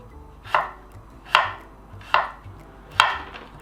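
A knife julienne-cutting cucumber for sushi on a board, four evenly spaced crisp chops roughly a second apart, close and clear with quiet gaps between, no voices.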